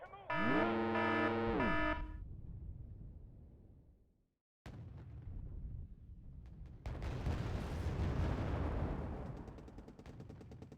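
In Wargame: Red Dragon, a loud, distorted impact and blast strike a tank as a 16 AP HEAT round hits its side. A tonal game effect comes first, then a short silence, followed by rumbling explosive noise that swells and lingers.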